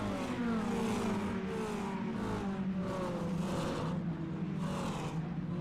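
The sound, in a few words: race cars driving in iRacing video game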